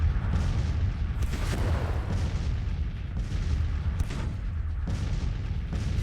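Naval cannon bombardment in a Civil War strategy game, Grand Tactician, with ships firing on a home squadron: several heavy booms land in irregular succession over a constant rumbling battle din, loud and close.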